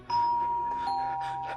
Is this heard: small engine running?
no